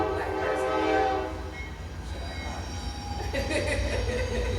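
Train passing close outside, with a long droning rumble of rail cars, horn-like tones at the start and faint wheel squeal throughout.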